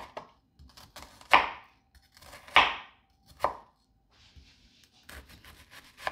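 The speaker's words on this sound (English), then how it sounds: "once we've cut our onions in half, we're just going to take our knife and slice down lengthwise" A knife cuts lengthwise through halved onions on a cutting board in three crisp, evenly spaced chops, followed by softer scraping and light tapping, close and loud.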